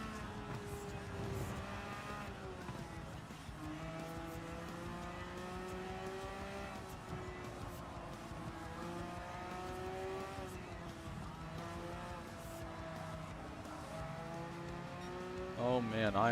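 Race car engines from Gran Turismo 7, steadily droning and rising and falling in pitch through gear changes over a final lap, with a brief tire squeal near the end; the sound is continuous and fairly faint, and a voice speaks over it.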